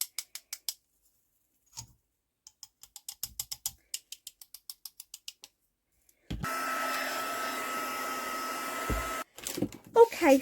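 A handheld drying tool blows steadily on wet white paint on a botanical journal cover, a loud continuous whir that runs for a few seconds after some light clicks and handling, then cuts off.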